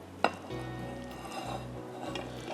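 Minced meat being stirred into a thick masala sauce in a pan, with a steady low scraping and mixing texture, one sharp clink of the spoon at the start, and no talking.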